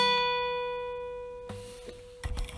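One guitar note at the 12th fret of the 2nd string, plucked alone and left to ring and fade for about two seconds, then followed by faint handling noise and light string scrapes near the end.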